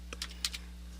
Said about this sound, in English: So I'm just typing page title.